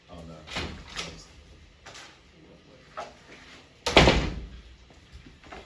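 Thuds and knocks against a door come in several separate bursts, one louder slam-like knock near the end, with a person's voice mixed in.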